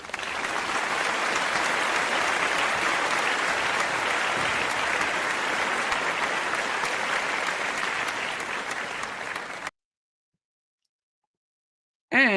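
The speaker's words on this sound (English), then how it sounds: "the applause. There we go." An audience at the Invictus Games applauds, a dense, steady wash of clapping from a large crowd lasting about ten seconds before cutting off abruptly.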